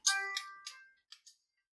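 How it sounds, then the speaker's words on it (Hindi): Phone ringtone from an incoming call, a short melodic electronic chime of several bright tones: a sustained opening note followed by quick shorter tones fading out, fairly close and alone with no talking. "एक मिनट, फोन आ गया।"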